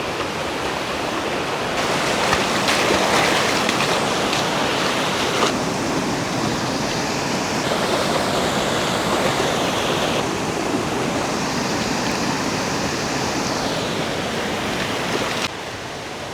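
Creek flowing at a crossing on a mountain trail: a loud, continuous rushing wash of water, close by and steady throughout with slight shifts in intensity.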